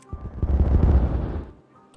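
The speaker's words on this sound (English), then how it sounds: "Let's explode this." An explosion set off in the video game Timberborn: a single loud, low, rumbling boom that swells and then fades over about a second and a half, heard alone.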